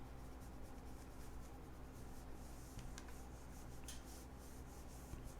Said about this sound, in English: Take my eraser, get rid of all those lines.